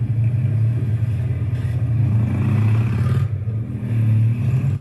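A motorbike runs hard through a steady low engine drone, the note rising and holding with a brief dip partway before surging again, loud and close with no voices.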